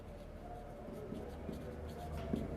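Marker or chalk scratches across a board in steady strokes, faint and close over a continuous low room hum.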